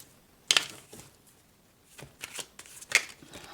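A deck of reading cards is shuffled in a few quiet, papery riffles and flicks, with sharp bursts near the start and again near the end and soft rustling between.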